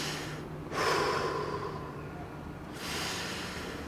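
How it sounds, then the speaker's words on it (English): Deep breaths during a floor workout, heard close up as two or three slow airy inhales and exhales, with a louder, sharper intake in the middle. "let's take 3 deep breaths"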